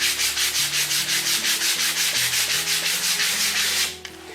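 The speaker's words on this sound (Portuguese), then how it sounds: "No caso aqui eu tenho uma lixa 220 para massa de parede, pode ser para madeira também" A wooden piece being hand-sanded with 220-grit sandpaper: steady, rhythmic back-and-forth scratching strokes, close and fairly loud, about two strokes per second, stopping abruptly near the end.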